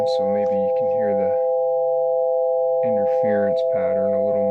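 Two steady sine tones sound together, their interference producing a constant high hum that runs the whole time beneath a person talking, with a faint low tone showing in a pause.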